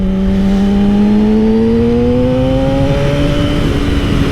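A Yamaha R6 600cc sport bike cruising on a road, its engine a steady loud drone with rising tonal pitch as it pulls, close and continuous with wind rush and no talking.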